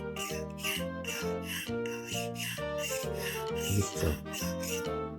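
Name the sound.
hand plane blade being sharpened incorrectly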